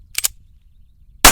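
Two sharp reports from a 1911 pistol ring out during a shooting drill, a quick pair near the start, then a brief silence and a third loud, close shot near the end.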